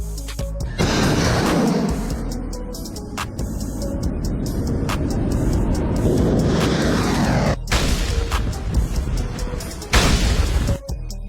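A US Army 120mm tank shell fires as a sharp, heavy boom and then rolls into a long rumbling roar, with more abrupt blasts following, loud and close throughout.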